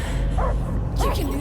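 Dog barking in Marvel's Guardians of the Galaxy game, two short, close yelping barks over a constant background of game ambience and music, with a voice speaking amid the barks.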